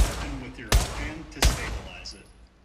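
Two sharp gunshots from the VR shooter Pavlov crack out roughly seven tenths of a second apart. Each leaves a short echoing tail over a low background of game ambience and a faint voice.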